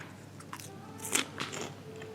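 A crunchy amplang snack from Tanah Grogot, East Kalimantan is bitten into, giving a couple of crisp, close crunches over quiet room noise, with a faint voice nearby.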